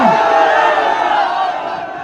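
Large crowd at a political rally in Patna, Bihar, cheering and shouting in a loud, sustained roar that fills the space throughout, with no single voice standing out.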